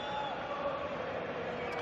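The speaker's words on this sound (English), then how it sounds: "the crowd's all pumped up" Stadium crowd at a Real Madrid versus UD Las Palmas football match, a distant, steady roar of cheering spectators under faint commentary.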